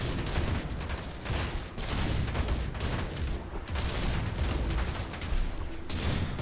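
Artillery and gunfire in a Tooth and Tail battle, a dense, continuous fusillade of overlapping shots and bursts with occasional heavier booms, loud and busy throughout.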